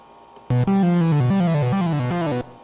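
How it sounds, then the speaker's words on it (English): An original, unedited synth plays a short melodic phrase of stepped, sustained buzzy notes for about two seconds, loud and alone, with sharp onsets. "Ordinarily, the synth sounds something like this."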